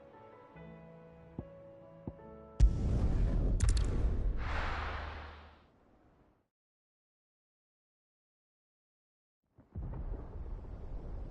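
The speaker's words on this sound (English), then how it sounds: "Sounds like thunder." Thunder in a video game: a sudden loud crack swells into a heavy rolling rumble that fades to silence, then a second rumble begins near the end.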